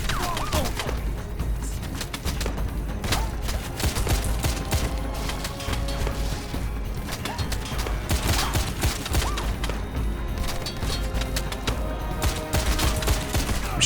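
Rapid, dense gunfire from the 2009 Xbox 360 shooter Wanted: Weapons of Fate, bursts and shots overlapping continuously with impacts and game music throughout, loud and sustained.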